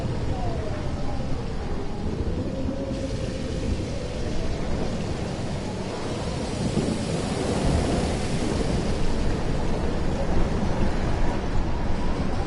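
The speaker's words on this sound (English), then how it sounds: "More storms." Thunderstorm in the Life Is Strange video game, a loud sustained roar of thunder and rain that builds in strength, with a faint voice-like tone under it early on.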